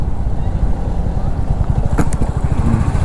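A motorcycle rides along at steady speed, picked up by a Sony ECM-LV1 mic mounted inside the helmet. A low engine thrum sits under constant wind rush, with a brief scrape near the two-second mark.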